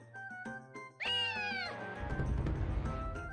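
Cat meowing inside the video game Naruto: Ultimate Ninja Storm, one clear drawn-out meow rising then falling, with game sounds before it and a noisy rumble swelling after it.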